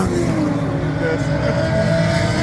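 Ford Ranger pickup trucks race around a dirt track at the Freedom Factory, a loud continuous roar of engines revving and droning, with crowd or voices faintly mixed in the din.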